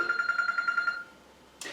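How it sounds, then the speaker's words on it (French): A mobile phone rings inside a parish church, about eight quick pulsing trills in a rapid rhythm, then it stops and a short noisy rustle follows. "le téléphone de Pascal qui est en train de sonner"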